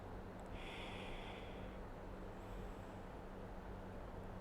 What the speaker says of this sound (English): exhaling out through the nose